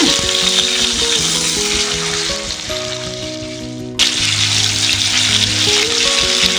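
Chicken pieces fry over a high gas flame in a pan, a loud, steady sizzle running throughout with a brief dip near the middle as the pieces are pressed and turned, then full crackle again.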